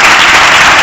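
A conference audience at a plenary session applauds in a loud, dense, continuous wash of clapping, close and steady with no voices on top.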